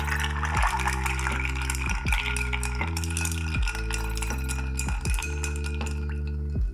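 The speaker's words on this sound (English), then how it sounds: "We're gonna fill our mixing glass with ice and stir it for about 60 revolutions or 30 seconds." Ice clinks and rattles steadily as it is stirred in a mixing glass for a rum Manhattan cocktail, with soft, rapid glassy ticks over a low continuous hum and no talking.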